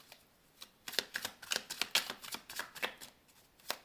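Tarot card deck being shuffled and cut by hand, a close run of crisp riffling flicks and snaps in irregular bursts, with no talk.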